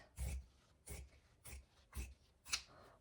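Scissors snip through cotton fabric in five separate, evenly spaced cuts, each a short crisp rasp close at hand, with no voices.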